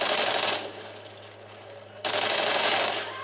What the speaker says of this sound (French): j'ai un ami qui tire sur un ennemi